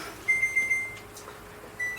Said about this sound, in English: And there goes my timer.